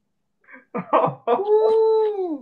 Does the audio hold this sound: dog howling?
yes